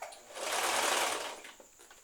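A sewing machine running a straight stitch along a small hem on pajama fabric, one steady continuous whir that swells and fades over about two seconds, near and alone.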